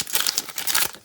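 Crinkly foil wrapper of a Pokémon booster pack being torn open by hand, a close, loud burst of rustling and ripping lasting about a second, with no talking.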